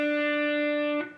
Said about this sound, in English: place it on the 3rd fret of your B string. Play that note 1 time